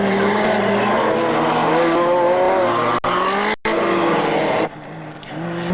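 Off-road buggies in an endurance autocross race at Mérignac accelerate hard, their engines revving up through the gears nearby, with a brief tire squeal, a short dropout, and another engine climbing at the end.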